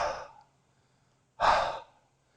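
Two slow, forceful exhalations during yoga practice, each a breathy rush of air lasting about half a second, close to the microphone, with a quiet pause between them.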